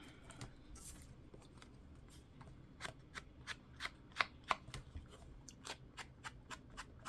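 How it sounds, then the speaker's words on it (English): A paper card has its edges distressed in a craft session: a run of quiet, dry scraping and scratching strokes, irregular at first, then sharper rhythmic rasps close by, with no talking. "I'm going to distress the card."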